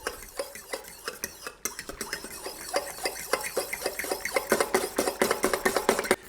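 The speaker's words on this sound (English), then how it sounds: "with the fork, we're just going to mix that until it's all combined" A fork stirs boiling water in a cup or bowl, making rapid, rhythmic clinks and scrapes close by that grow louder and quicker toward the end.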